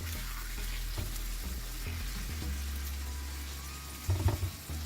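Mutton for tawa bhuna gosht fries on a hot tawa in oil with a soft, continuous sizzle. Low thumps come from the pan, and a short burst of louder crackling follows near the end.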